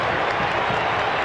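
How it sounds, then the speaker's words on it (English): A football crowd at a 2001 Western Bulldogs AFL match roars its disapproval of an umpire's decision, a loud, dense wash of noise that holds steady from start to finish. "Crowd just having a look at the replay of the decision, letting them know in no uncertain terms what they thought about it."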